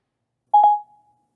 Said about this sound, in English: Calling Angela Douglas.